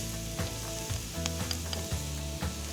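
Garlic sizzles in a pan alongside artichokes and onions, a constant crackling fry with soft periodic thuds of stirring, moderately quiet and heard alone without any talking.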